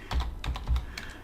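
Soft clicking of a computer keyboard being typed on during Java programming, a few quick keystrokes in uneven clusters, close and fairly quiet, with no talking.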